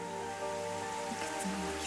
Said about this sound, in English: sound of rain is extremely loud, by the way, I know